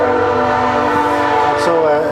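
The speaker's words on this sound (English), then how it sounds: "As the train goes by here in Valemount" A train passing through Valemount blares a loud, sustained horn close by, the chord holding steady for about two seconds over rumbling rail noise.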